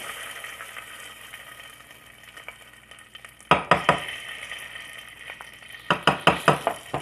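Tomato paste sizzles in hot olive oil in a pan for enchilada sauce, a soft frying hiss broken by two bursts of sharp, rapid utensil clacks and scrapes against the pan.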